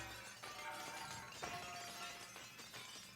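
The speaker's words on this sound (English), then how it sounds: "Every time I hear that barrier break, I feel like the glass noise is a bit misplaced." Glass shatters as a barrier breaks in the Wind Waker video game, a bright crash with ringing shards, followed by a second shattering burst, loud and close with no talk.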